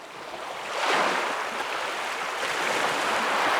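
Waves of the warm Arabian Sea wash along the Omani coast in a steady broad hiss of surf, swelling slightly near the start and staying continuous, with some wind noise and no talk.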